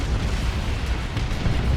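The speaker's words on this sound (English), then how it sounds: "The Land Raider's taking a lot of damage, but down goes the" A looted Ork tank blows up in a Dawn of War 2 battle against Space Marines, a dense rumbling explosion with heavy low boom that sustains steadily for nearly two seconds amid ongoing battle noise.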